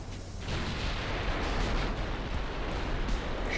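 Naval guns from heavy and light cruisers, secondaries included, fire in Ultimate Admiral Dreadnoughts as a continuous rumbling barrage of overlapping booms, loud and dense throughout.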